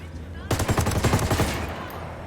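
In the Ghost Recon Wildlands video game, a sudden burst of rapid automatic gunfire erupts after a quiet moment, a dense string of close, loud shots lasting about a second before trailing off.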